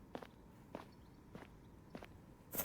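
Footsteps in a quiet village in a video game, five soft, evenly spaced steps at a slow walking pace over near silence, the last one slightly louder.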